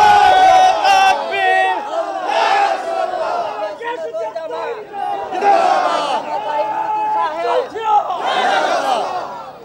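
A large crowd at an Islamic religious sermon gathering shouts slogans in unison, loud repeated bursts of many voices chanting together in a strong rhythmic call pattern.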